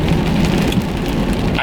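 Heavy rain drumming on a car from the inside, a loud, dense, constant patter of drops close by with no voices.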